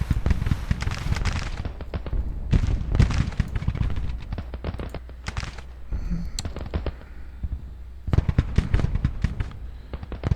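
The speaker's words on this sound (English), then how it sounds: "we got at least 4 artillery battalions, or brigades, that are firing in on the Union here" Artillery batteries keep up a barrage on an open battlefield in Grand Tactician: The Civil War, Antietam. Cannon booms come close and far in an irregular, continuous series of loud reports with crackling echoes, and no voices are heard.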